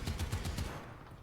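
Rapid machine gun bursts from a small armored vehicle in the War Thunder video game, about five quick loud pulses in the first half second before fading into low rumbling game ambience.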